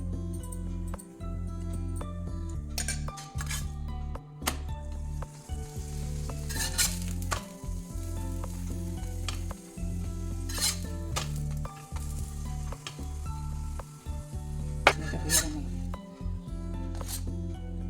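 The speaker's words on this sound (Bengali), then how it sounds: "এবার আমি এটা ঘি দিয়ে ভাজছি" Puran poli flatbread fries in ghee, sizzling and crackling steadily in a pan, broken by occasional scraping and clinks of a utensil against the metal.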